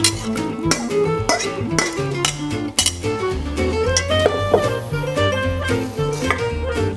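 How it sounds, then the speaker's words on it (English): Cornbread dressing mix dumped into an oiled 9x13 casserole dish, a dense run of clinks, scrapes and soft thuds of utensils against the dish, busy and close with no voices. "We're just going to dump everything into this dish."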